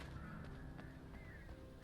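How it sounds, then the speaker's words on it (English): A flock of birds honking and calling in the Alan Wake video game, a busy chorus of goose-like cries layered over a dense, rumbling ambient backdrop, steady throughout. "So many birds."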